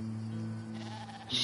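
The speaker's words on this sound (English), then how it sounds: "Oh, Goats." Goats bleating in the video game Caravan SandWitch, a close, rising bleat near the end over steady droning game ambience.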